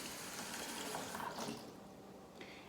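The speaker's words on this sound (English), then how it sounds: "So I'm just gonna rinse this off in the sink." Water runs steadily from a kitchen sink tap over a loaf of old bread being rinsed, a continuous close splashing hiss that eases slightly toward the end, with no talking.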